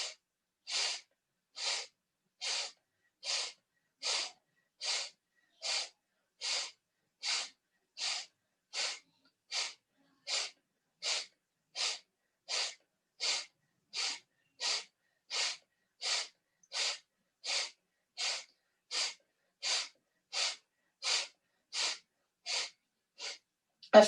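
Rapid deep belly breathing in a guided breathwork circle, a steady train of about thirty sharp, evenly spaced breaths, close and clear, with silence between each and no talking.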